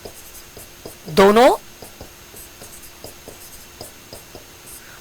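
Pen strokes scratch steadily across paper as a chemistry equation is written out by hand, a light rhythmic scratching under a teacher's voice speaking.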